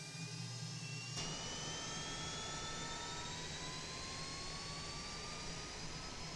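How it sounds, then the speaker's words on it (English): An auxiliary power unit spools up on a CJ business jet in Microsoft Flight Simulator, a low hum jumping to a loud steady whine with rising tones that holds without pause; no voices. "the APU is now live. And we'll just listen to the sound of that"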